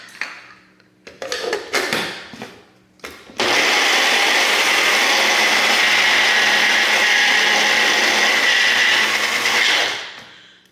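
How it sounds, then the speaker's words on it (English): A kitchen blender purees parsley and mint into chimichurri sauce: a few short stuttering pulses first, then a loud, steady, high-pitched whir that runs for about seven seconds before winding down. "And we'll blend those all up."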